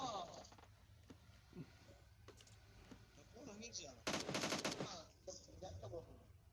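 Rapid automatic gunfire in PUBG Mobile, a brisk burst of close shots in the middle and scattered distant pops elsewhere, with players talking over it.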